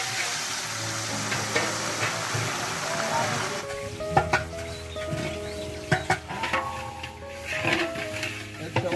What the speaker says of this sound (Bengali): এখন আমরা মাছ ভাজি করবো।